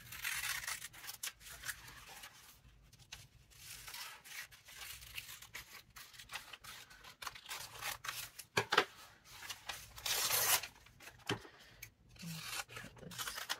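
Scissors snipping a fish picture out of a magazine page, close up: irregular crisp cuts mixed with paper rustling and scraping, loudest in a sharp burst past the midpoint, with quieter pauses between.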